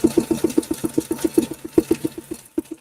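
A Husqvarna Viking sewing machine stitching through stabilized fabric with an 80 size needle, a rapid even run of mechanical thumps, close and loud, slowing and stopping near the end with no voices.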